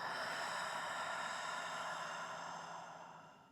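During yoga breathing practice, a long, steady exhale sounds close to the mic as a soft breathy rush lasting a few seconds, fading at the end.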